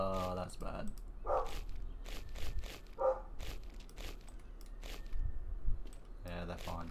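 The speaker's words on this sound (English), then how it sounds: "I startled the dog next door." A neighbour's dog barks in short, separate bursts through an open window, fairly close and repeated, mixed with a person talking and a few small clicks.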